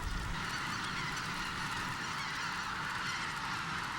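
White-naped cranes calling in a wetland, a dense continuous chorus of honking bird voices mixed with steady broadband background hiss, fairly distant and even throughout, no speech.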